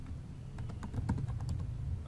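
Someone types on a computer keyboard, a quick run of light, close clicking keystrokes at an uneven pace, soft against a low background hum.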